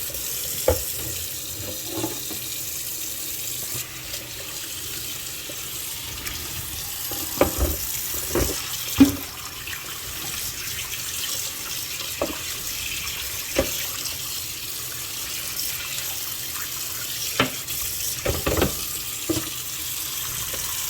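Running water from a tap rinses a fire-damaged game console, a steady wash of splashing and trickling with occasional sharper splats and clatters as the console is moved under the stream, close by with no talk.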